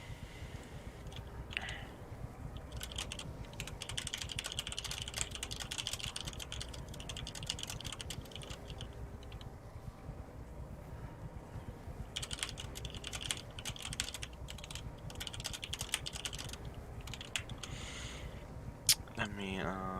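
Continuous computer keyboard typing, with rapid clattering bursts and brief pauses between them, close, while gameplay sounds continue in the background.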